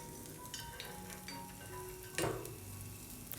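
Egg batter fries in a pan for an evening snack, a steady soft sizzle with light scraping stirs and one brief louder crackle midway, no talking.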